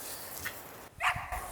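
A dog at a dog-friendly spot among New Zealand mountains gives a short bark and a couple of yips, close and moderately loud over faint outdoor background, with no talk.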